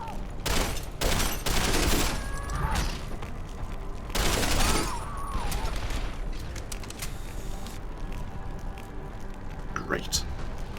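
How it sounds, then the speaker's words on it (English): Assault rifle gunfire in the video game Deus Ex: Human Revolution, with loud bursts of shots in the first five seconds, then sparser, quieter shots and mechanical clanks. "I don't know where we were keeping this assault rifle, by the way."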